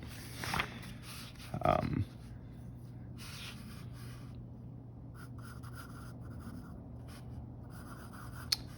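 Pen or pencil scratching across a comic page as dialogue is lettered in, a few short strokes and scrapes at close range over a low steady hum, with quiet gaps between bursts.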